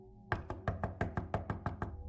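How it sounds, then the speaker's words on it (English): Nine firm, evenly spaced knocks land on a front door, close and distinct in a quick steady rhythm against quiet surroundings. "He knocked on the door"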